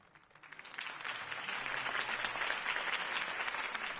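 A crowd in a Batman video game applauds after a campaign speech, clapping building from a few scattered claps into steady, dense applause that holds at moderate volume with no talk.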